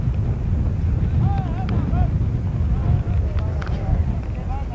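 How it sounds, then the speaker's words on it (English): Gusts of wind buffet the microphone at a varsity baseball game, a steady low roaring rumble throughout while a commentator talks over it. "And the wind is really causing us problems here at the moment."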